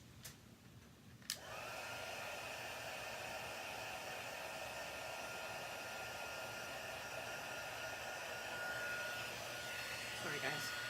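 A hair dryer switches on with a click and blows a steady, even whoosh for several seconds while paint dries on a craft layout.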